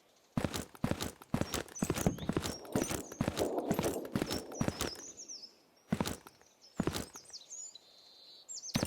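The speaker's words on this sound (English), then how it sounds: "I do hear footsteps." Footsteps in the video game Zero Sievert thud in quick, close succession for about five seconds, then pause before a few more scattered steps return, with faint chirps in the background.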